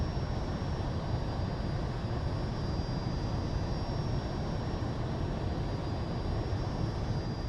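Steady, loud jet engine roar of a Fouga Magister CM.170 trainer in the MSFS 2020 flight simulator, a continuous broadband rumble with a faint high whine running unchanged throughout, no voices.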